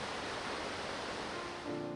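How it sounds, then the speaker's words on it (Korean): Rapids on the Hantan River roar steadily as a broad, dense rush of water, continuous and fairly distant, with no voices over it. "물소리가 정말 우렁차네요."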